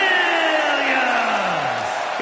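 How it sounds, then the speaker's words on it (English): Arena crowd in WWE 2K25 roaring and cheering steadily for a wrestler's entrance, a dense sustained wash of whoops and yells with a falling tonal sweep running through it. "It's great to hear the crowd give this superstar the reception he deserves"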